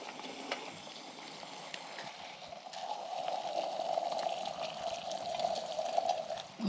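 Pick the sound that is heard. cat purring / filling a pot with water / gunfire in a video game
filling a pot with water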